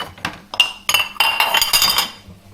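Clean dishwasher plates handled and stacked, giving bright ceramic clinks and clatters that build into a busy cluster of knocks, close and loud with no one talking.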